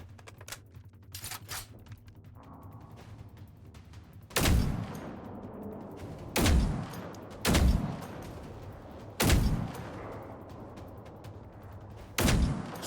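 Heavy .50 caliber rifle shots in the video game Generation Zero, five loud booming reports spaced a second or two apart over a low steady background hum, with no voices.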